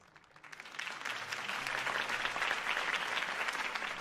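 Applause from a large crowd in the video game Batman: The Telltale Series swells up quickly and carries on steadily as a dense, even clatter of clapping.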